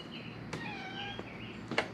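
A cat meows a few times in a quiet workshop, the calls drawn-out and fairly close, with a faint background hum and no talking.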